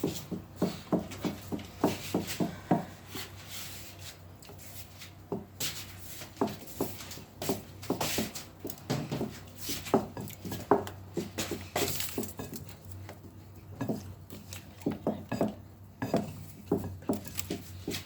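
A spoon clinks and scrapes steadily against a bowl as choux cream batter is stirred while milk is added bit by bit, a quiet rhythmic tapping and stirring.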